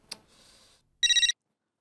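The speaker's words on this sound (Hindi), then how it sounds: "उमाताई का फोन?" A telephone rings once in a domestic sitcom scene: a short burst of bright, bell-like trilling, preceded by a click and a faint buzz, with no talk.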